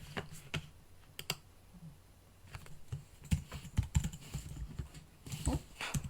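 Clicks of a computer keyboard being typed on, irregular bursts of close, crisp keystrokes with short pauses between them.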